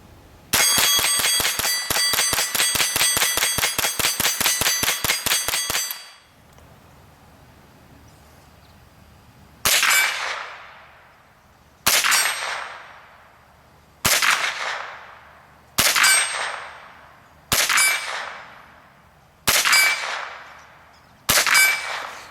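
A Ruger 10/22 Takedown rifle is fired at steel targets. A dense burst of rapid metallic clatter is followed by seven evenly spaced sharp shots, each ending in a ringing clang that fades.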